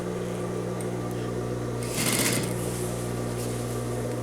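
A sewing machine stitching a vest lining seam 1 mm from the edge, running as a steady close hum with a short burst of rustling fabric in the middle.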